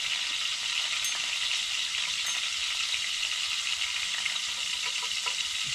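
Fish fries in overheated, near-burning oil while ice camping, making a continuous crackling sizzle with small scattered pops, fairly close and with no voices.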